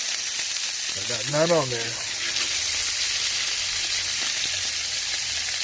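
A steak fries in a hot pan while being spoon-basted, giving a loud continuous sizzle from start to finish, with a short spoken remark early on.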